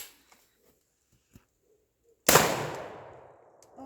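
A single loud, close blast from a Civet 12 shotgun fired at a range, preceded by a few faint clicks and followed by a long decaying echo.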